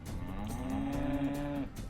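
Cattle in the video game America give one long, steady, drawn-out moo lasting well over a second. The call is clear and fairly close, and it sits over a soft, continuous game background with no speech.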